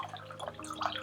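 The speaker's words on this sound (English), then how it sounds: "I'm gonna pour it in this little glass" Lithium spring water is poured into a small glass, giving a soft, brief trickle and a few faint splashes close by, heard over a quiet steady hum.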